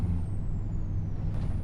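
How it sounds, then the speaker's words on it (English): Farming Simulator road traffic in a 1990s setting, with a loud truck or bus air brake hiss and a heavy engine rumble passing close by, with no talk. "What is this traffic doing? They're all passing."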